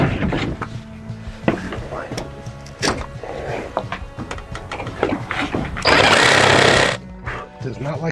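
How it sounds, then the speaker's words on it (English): A power tool chatters and grinds as it struggles through a knot in old wood while deck repairs go on at a 200-year-old farmhouse. A louder, sustained whining burst comes near the end, with voices talking around it. "Does not like cutting through that knot"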